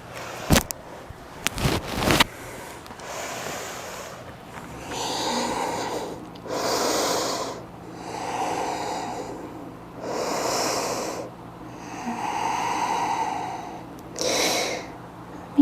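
Slow, deep breaths in a yoga rest pose during a power vinyasa class. About five long, even inhale-exhale cycles come close and steady, after a brief louder rustle at the start.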